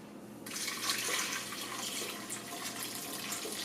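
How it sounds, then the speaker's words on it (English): Milk streams into a blender jar in a steady, close pour, a continuous liquid rush with no talking. "You put your blender on, and you add 8 ounces of milk."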